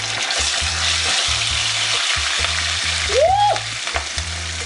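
Boiled pepper sauce sizzles loudly as it fries in hot oil, a dense steady crackling hiss close up, with a brief higher squeak partway through.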